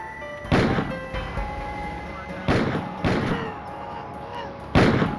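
Four sharp gunshots fired at close range at a patrolman's cruiser parked on a street, coming singly with pauses, the first at about half a second and the last near the end, each a loud crack over a steady low background.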